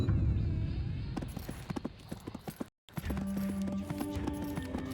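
A horse's hooves clip-clop steadily in the Disciples Liberation game, a close, rhythmic run of hoofbeats that breaks off briefly and then resumes beside other game sounds.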